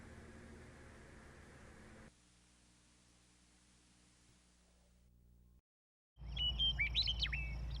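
Small birds chirp and trill near the close, at a lakeside by Lake DeSmet in Wyoming, rising suddenly after a stretch of low hum and near-silence, fairly loud over background hiss.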